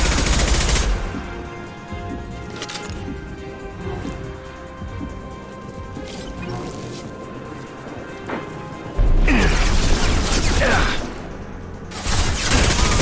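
Weapon fire and impacts from a combat sequence in Mass Effect Legendary Edition 2, with loud broadband bursts at the start, around nine seconds and near the end, separated by quieter stretches of rumbling game ambience.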